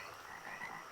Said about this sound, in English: Do you hear that? The frogs.